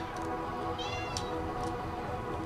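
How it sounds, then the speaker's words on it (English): A pet cat meows a few brief times during a Tokyo 42 game session, faint chirps sitting over a steady, dense bed of game music and noise. "And my cat's going to meow at us a bunch"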